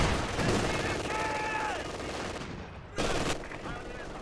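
Machine gun fire rattles in a competitive strategy video game match, rapid bursts of gunfire mixed with other battle sounds and explosions, with a commentator talking over the action.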